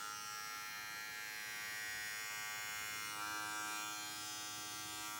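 A Stylecraft Flex or JRL 2020T electric hair trimmer runs steadily and close, giving a continuous even buzzing hum that holds without pause throughout.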